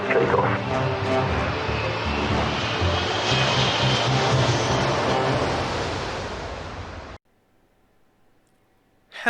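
Loud, steady aircraft engine roar builds through a takeoff roll in a flight simulator game, holding for about seven seconds before cutting off abruptly to near silence, with a faint steady tone underneath.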